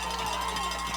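Home crowd of Marshfield Tigers fans cheering at a high school playoff football game, a steady roar of voices throughout, with a few claps or cowbell-like knocks under the broad noise.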